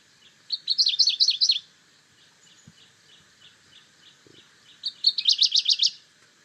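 Recorded bird song with two bursts of rapid high trilling notes separated by quieter scattered chirps, close and clear against a hushed background with a couple of faint soft knocks.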